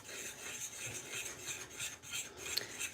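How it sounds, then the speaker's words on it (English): A single whole egg is slowly stirred into rainbow pasta dough, making a soft, continuous scraping and rubbing sound, quiet and close, with faint rhythmic strokes and no talking. "So I can just use 1 full egg and just real slowly give it a good mix."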